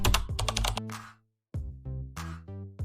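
Rapid clicking on a computer keyboard while typing a web search, with bursts of close, crisp keystrokes, a short pause, then more taps.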